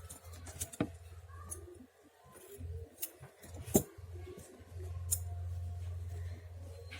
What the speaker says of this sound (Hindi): धागा काट दीजिए।